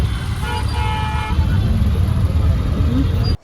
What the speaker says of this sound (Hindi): सो गाइस, ये है चांदनी चौक की ट्रैफिक।